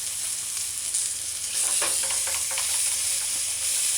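A hamburger patty fries in a pot on a stovetop, giving a continuous close sizzle and hiss with faint crackles swelling midway.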